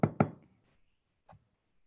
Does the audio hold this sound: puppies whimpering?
no